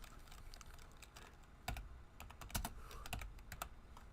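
Typing on a computer keyboard: quiet, uneven clacking keystrokes that come in bursts, with several sharper, louder key hits partway through and no talk.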